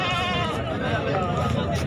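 Goats bleat loudly and close by at a busy goat market, a sustained wavering cry filling the moment over crowd murmur and someone talking.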